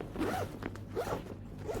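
A travel bag's zipper is pulled in about three quick, rasping strokes, close up and fairly loud, with no voices.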